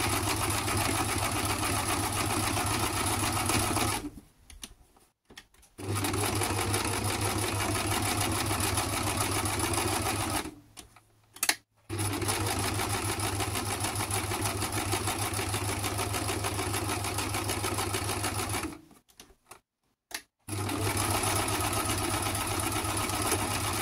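A sewing machine stitches zigzag borders on a scrapbooking piece, a steady fast mechanical whir running in long stretches, stopping briefly three times before resuming, close and alone.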